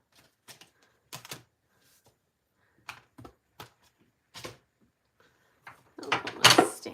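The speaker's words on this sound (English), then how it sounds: "And die cut them" Die cutting machine cranking out heart-themed cards: a few separate clunky mechanical clicks and thumps spaced across a quiet room, ending with a louder, denser burst of grinding and rattling near the end.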